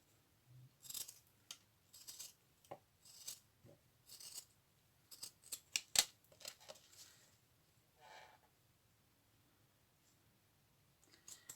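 Scissors snip strips of paper for a boho junk journal, a string of crisp, close cuts and rustles in uneven bursts, with quiet pauses between and one sharp clack midway.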